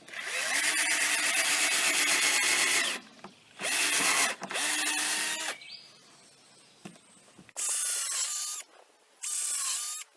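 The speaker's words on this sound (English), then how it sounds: "So you have a drill that drills holes into them like" Power drill boring holes into wooden boards while building a bear-proof chicken coop from scrap, running in several loud bursts of whining bit and grinding wood, broken by short pauses and quieter handling between passes.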